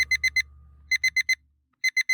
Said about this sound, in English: That's freaking alarm.